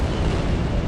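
Bomber airstrike explosions in a World War II strategy game set in Berlin 1945: a dense, loud, continuous rumbling roar of blasts with no break.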